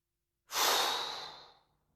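One long, airy breath during a guided meditation breathing exercise, starting abruptly after silence and fading out over about a second, close-miked and alone.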